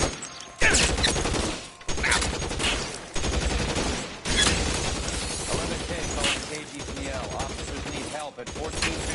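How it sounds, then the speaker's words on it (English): A gun battle in the detective game L.A. Noire: dense, loud volleys of gunfire with short pauses between them, while dialogue and voices carry on over the shooting. "Shots fired and officers need help at 1452 North Las Palmas"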